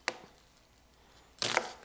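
Two sharp knife chops on a cutting board while prepping vegetables for a fried rice meal, one short isolated chop followed by a louder, slightly longer burst of chopping after a pause, close and with no talking.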